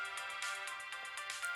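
A short chiming notification jingle plays in the mobile game Fate/Grand Order, made of a quick rhythmic run of bright tones at moderate volume with no talk.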